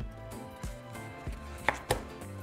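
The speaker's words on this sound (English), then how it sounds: "now we can begin to cut into smaller pieces" A kitchen knife chopping watermelon into smaller pieces on a board, a series of about five dull, regular cuts, close and fairly quiet, with no talk.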